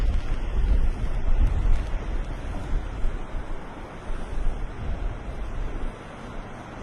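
Waves washing in at high tide, a loud continuous rushing surf with heavy wind rumble on the microphone, easing slightly toward the end.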